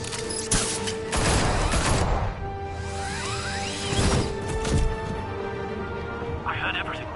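Gunfire in a Batman Telltale Series fight scene: loud bursts of shots with crashes and whooshes over a busy sustained background, with shouting voices.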